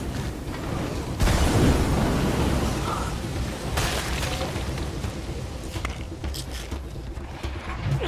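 A thrown explosive going off in a video game: a deep, loud boom with a broad rumbling tail that fades over several seconds, followed by quieter scattered crackles and game ambience.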